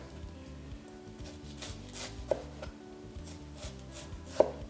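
Knife chopping an onion into half moon slices on a cutting board, a quick steady run of soft close taps with a couple of sharper knocks, no talk.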